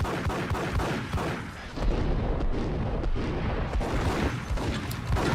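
Gunfire and explosive blasts from the cancelled Sin City video game, a dense, loud, continuous barrage of shots and booms with rapid bursts layered over one another, no pauses throughout.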